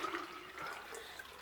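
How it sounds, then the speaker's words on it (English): Murky water poured into a 4-stage water filter, a soft continuous trickling and splashing pour, close and fairly quiet with no voices. "And I'm going to pour some of it in here."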